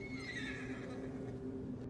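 A horse named Vern's whinnies in a long, wavering neigh, fairly faint and distant, with faint hoof clip-clop underneath and no talk.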